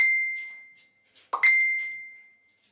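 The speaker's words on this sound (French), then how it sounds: "la tablette, elle va faire parce que j'ai plein de notifications qui sont tombées" Tablet notification chimes: a clear bell-like ding rings out and slowly decays, then a soft clink and a second bright ding ring out and fade, fairly close and with no voices.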